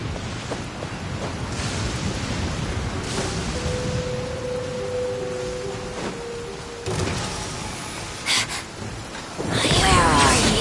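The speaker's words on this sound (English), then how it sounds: "This heavy rain must be quite an inconvenience for you." Heavy rain in the video game Genshin Impact, a dense hiss of steady downpour running throughout, with a faint tonal hum in the middle and a louder surge of noise near the end.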